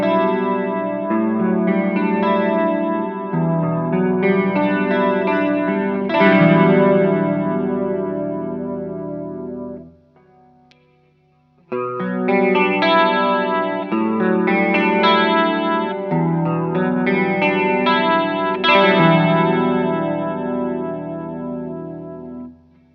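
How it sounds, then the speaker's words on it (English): Les Paul electric guitar played through a Movall Choral Mermaid chorus pedal, strummed chords ringing loud and shimmering, moving from neck to bridge pickup, with a brief near-silent gap midway before playing resumes. "Now let's listen to Les Paul pickups, starting on the neck, working through to the bridge."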